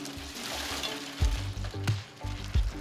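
Fried pork pieces drop into thickened sweet and sour sauce in a wok over very low heat, giving a soft, steady sizzle broken by a few heavier plops and stirring thumps.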